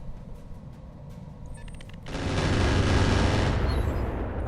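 Missile fire from a Stone Giant mech in the Roguetech video game breaks out as a sudden loud, dense rushing barrage that holds for over a second and then tapers off.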